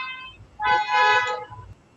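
Outside, a car horn sounds a short tone, then a louder sustained honk of about three-quarters of a second, with low traffic rumble underneath.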